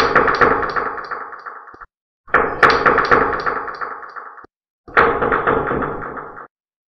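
Knocking on a door comes in three loud, close bursts of rapid repeated raps, each lasting about two seconds and separated by short silences.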